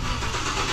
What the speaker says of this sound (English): Ooh, McLaren, nice car, eh?